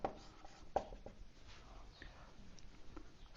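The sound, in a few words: writing a note by hand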